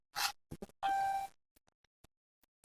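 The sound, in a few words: mobile phone calling the doctor, dialing beep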